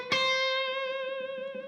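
An electric guitar string picked once and bent upward to a chord tone, the C note taken high on the neck; a single bright, sustained note rings on and slowly decays, alone with no talk.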